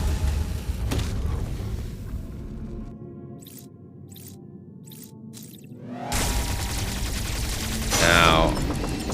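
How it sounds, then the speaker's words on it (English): A Metroid-style screw attack tears through an enemy in a game, with a dense mechanical burst and rumbling booms followed by a sudden drop to near silence broken by faint pulses, then another loud surge with a sharp crackling hit. "Screw attack, instant kills this thing."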